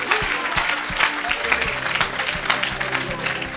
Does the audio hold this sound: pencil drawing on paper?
no